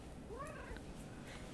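A single short rising meow from a cat sounds close but soft over a low steady background hum.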